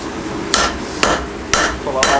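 A power hammer flattens hot metal at a forge in four loud, evenly spaced strikes about half a second apart, each a sharp ringing impact over a low shop hum, with no talking.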